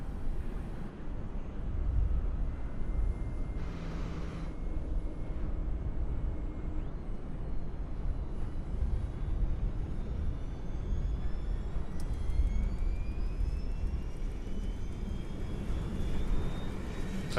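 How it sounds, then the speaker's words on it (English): Auxiliary power unit of a Fokker F28 airliner starting up in a cockpit: a steady, loud turbine roar with a rising whine that climbs in pitch as it spools up, continuous throughout. "let's get the APU fired up"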